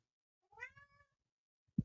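A house cat gives one clear, close, rising-and-falling meow, followed by a short soft thump, with no talking.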